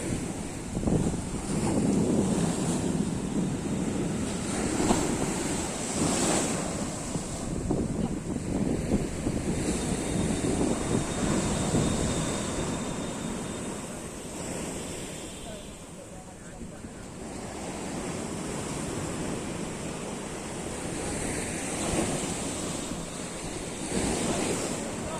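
Huge rough sea waves crash over the guard wall at Digha during a high spring tide, a continuous loud roaring surf with wind buffeting the microphone, swelling and easing with each surge.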